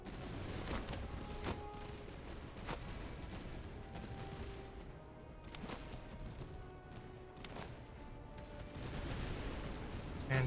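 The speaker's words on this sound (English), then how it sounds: "you can go ahead and start shooting at them" Musket volleys from massed troops in the Master of Command video game, sharp cracking reports repeating irregularly over a continuous rumble of battlefield noise, each shot distinct and moderately loud.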